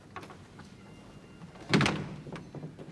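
A door swung shut indoors, a single dull thunk with a brief rattle standing out over quiet room tone.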